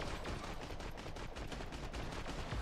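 Rapid rifle fire in a video game, a dense burst of repeated shots rattling continuously at low level without pause.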